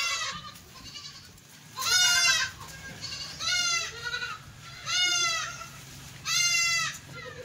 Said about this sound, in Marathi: हा आहेत भरपूर बोकड आहेत